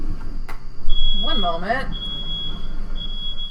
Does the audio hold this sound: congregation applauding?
no